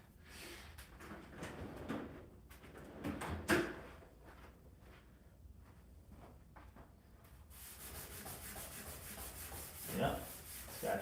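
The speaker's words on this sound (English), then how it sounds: "I see a spot right there that I'm gonna hit that with the Scotch-Brite pad" A Scotch-Brite pad scrubbed back and forth over a track to rub off a leftover spot of glue, steady close abrasive rubbing strokes that grow harsher and hissier toward the end.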